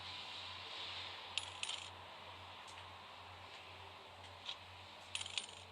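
Coins dropping in the video game A Memoir Blue: several short metallic clinks arrive in small clusters over a steady low hum, fairly close and crisp.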